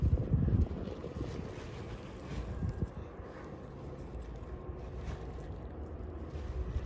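Gusty wind buffeting the microphone in an outdoor garden where strawberry plants are being thinned, a steady low rumble with stronger gusts at the start and end, no voices.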